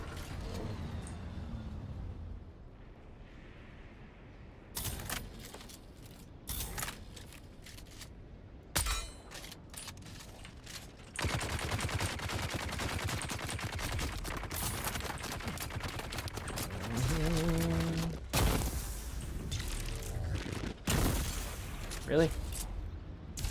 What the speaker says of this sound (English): I actually don't know how this game calculates its shots.